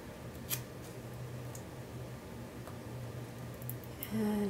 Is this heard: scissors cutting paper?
yes